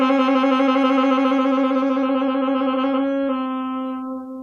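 Saxophone sounding a sustained B flat played with the side key fingering, one clear, steady note held for about three seconds, which then shifts slightly and fades out.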